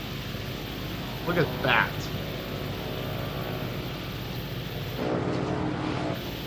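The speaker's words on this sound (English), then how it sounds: "Yeah, the Vilga is an absolute beast when it comes to short takeoffs." A Vilga light aircraft's engine drones steadily and fairly loudly through a short takeoff, a constant broadband roar that swells slightly near the end, while a voice speaks briefly over it.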